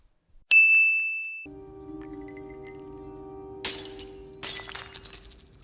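Glass shatters in the Spider-Man game, opening with a sharp ding, then a sustained tonal hum and two bursts of crashing, breaking glass near the end, loud and close with no talk.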